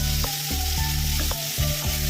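Steady, loud sizzling of vegetables frying in a pan, with periodic scraping and stirring strokes cutting through the constant hiss.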